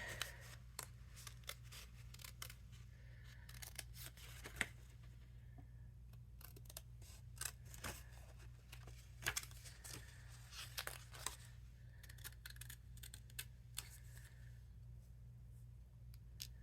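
Scissors snip card for a double stepper card in a quiet room, giving a long run of faint, irregular crisp cuts and paper rustles over a low steady hum.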